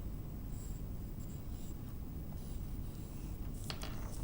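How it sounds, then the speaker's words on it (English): A pencil draws a leaf shape on paper with soft, continuous scratching strokes. The strokes sit under a steady background hiss and end in a few brisker scrapes near the end. "Now I am drawing here a leaf shape."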